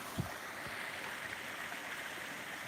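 Water flowing down a small river waterfall, a steady broadband rush heard from nearby, with a couple of soft low knocks near the start.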